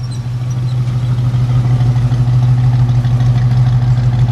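A 1966 Ford Mustang coupe's 289 V8 idles smoothly and steadily up close, a deep, even rumble with no voices over it.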